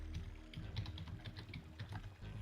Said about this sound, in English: Somebody's typing.